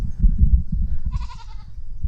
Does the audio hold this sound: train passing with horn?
no